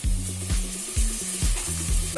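Soft sizzling as tomatoes sauté in a pan, with intermittent stirring scrapes and low thumps, no voices.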